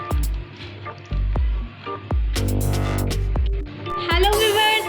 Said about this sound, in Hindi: और अब मैं इसको पानी के साथ थिक बैटर इसका बना लूँगी, जैसे आप पकोड़ों का बेसन घोलते हैं